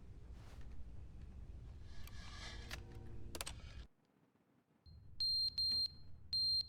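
Smoke detector chirping for a low battery in The Stanley Parable, heard as a few sharp, high electronic beeps in quick clusters near the end, after a stretch of game noise and a brief hush.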